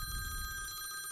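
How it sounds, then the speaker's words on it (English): A telephone rings with an incoming call, a steady electronic trill sounding faintly over a low background hum, with no one speaking. "Oh, we got a phone call."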